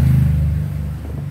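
A Honda Supra X 125 motorcycle engine bored up to 150cc, with a loose connecting rod, revs up close by as a low, steady drone. It then eases off over about a second, with no voices.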